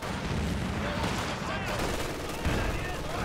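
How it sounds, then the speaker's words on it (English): A ZiS gun artillery barrage in a strategy game, with loud, continuous overlapping blasts and gunfire forming a dense, unbroken roar, and speech partly under it. "in comes a Zis barrage"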